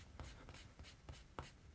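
A pencil eraser rubbing on paper in quick strokes, about six short scratchy swipes in a steady rhythm, close and quiet, with no talking.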